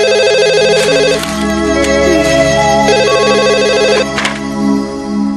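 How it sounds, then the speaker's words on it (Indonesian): A telephone rings with a loud, repeating electronic ringtone melody that cycles steadily for several seconds, with no one speaking. "Itu mungkin telepon dari Mas Handi."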